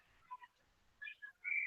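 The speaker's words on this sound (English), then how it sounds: "And there's a whistle" A referee's whistle at an ice hockey game against the Bay Area Blazers, a few short faint shrill blasts with a longer final blow, heard over quiet surroundings.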